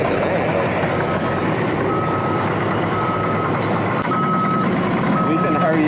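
Truck backing up to dump a load outdoors, its backup alarm beeping at a steady rhythm over a constant engine rumble.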